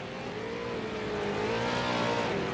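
Race cars in a sim racing game pull away from pit road at USA International Speedway, their engines droning loudly and steadily while the pitch rises and falls as they accelerate together.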